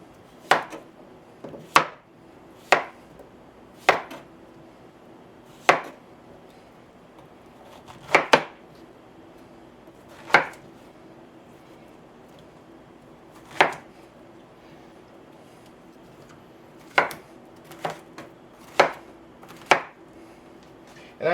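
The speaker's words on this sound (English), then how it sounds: "I'm going to chop up a squash, or these squashes." A knife chops fresh harvested squash into cubes on a cutting board, sharp isolated thuds spaced irregularly, sometimes in quick pairs, close and clear with no talking.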